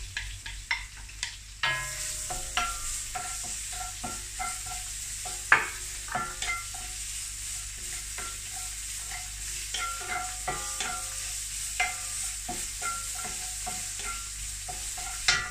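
Garlic fries in a pan with a continuous bright sizzle. Frequent scraping and clinking stir strokes sound close up, with no talk.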